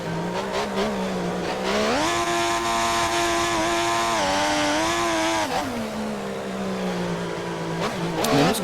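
Racing cars in a GP3-style video game at the Hungary circuit, engines droning loud and steady, pitch climbing through an upshift then holding at high revs before dropping off as the cars power out of the final corner.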